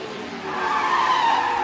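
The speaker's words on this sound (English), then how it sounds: "That's a massive lock-up." A Formula 1 car's tyres lock up and skid in the F1 Manager 2024 racing game at Las Vegas, a sustained loud screech rising and holding steady for over a second.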